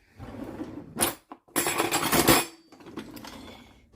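Metal spatula scraped against a bowl rim to clear excess cake icing, a few short scrapes and clacks close by, the longest and loudest lasting about a second, with kitchen background between.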